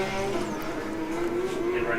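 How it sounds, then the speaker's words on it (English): Porsche GT3 Cup race cars lap Spring Mountain circuit, a steady high engine drone holding near and fairly loud as they come through the final sector, with commentary talking over it. "watching those two beautiful GT3 Cup cars come around the last final sector and set down another"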